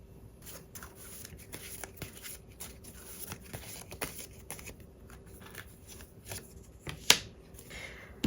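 Tarot cards being shuffled close up in a quiet room: a run of soft, rapid papery riffles and flicks with small gaps between them, and one sharper snap near the end.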